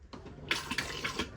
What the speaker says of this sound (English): press in that button, water comes through